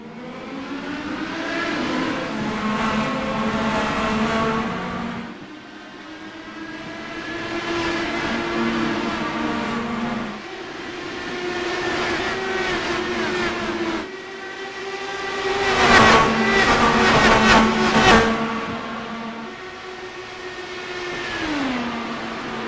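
IndyCar race cars in the iRacing sim roar off turn 4 at the start of a Kentucky Speedway race, a loud, sustained, layered engine drone whose pitch rises and shifts, swelling briefly near the end, with no talk.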